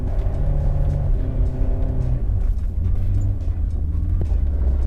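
Honda S2000 drifting sideways on snow in third gear on light throttle: a close, continuous low engine drone whose harmonics waver and shift as the car swings, with no talk.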